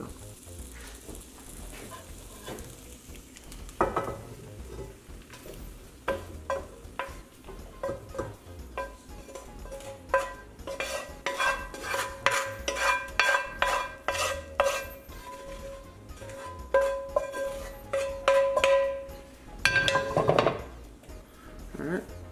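Summer squash, corn and tomatoes tossed and stirred in a hot pan, with irregular metallic scrapes and clinks of a utensil against the pan over a quiet kitchen background, growing busier toward the end.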